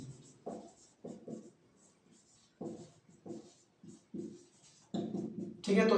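Pen or chalk writing during a Hindi-language class 7 maths lesson on triangles, short scratchy strokes in irregular bursts, fairly quiet, with a louder scrape at the end.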